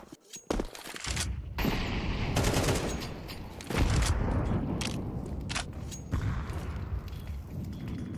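Bursts of rapid gunfire in a competitive first-person shooter match, loud sharp cracks coming in clusters and short volleys across several seconds, with brief lulls and a busy, dense game mix and no talk.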